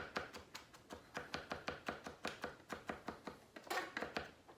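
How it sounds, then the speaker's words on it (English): A knife chops garlic on a cutting board in quick, steady strokes, about four per second, each a crisp close tap, with a brief scrape near the end. "Chop it again."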